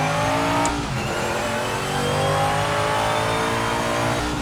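A race car in the Project Motor Racing video game slides around a track, its engine droning steadily and loudly with continuous revving and broadband tire and road noise throughout, without any speech.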